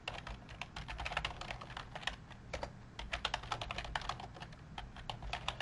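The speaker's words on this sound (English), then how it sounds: "let me just type that at the top" Steady typing on a computer keyboard, a quick irregular run of crisp key clicks close by and fairly quiet, with brief pauses between bursts and no talking.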